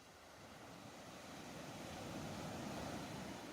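Ocean surf rolling in as a steady broadband wash that slowly swells louder, continuous with no distinct breaks and no voices.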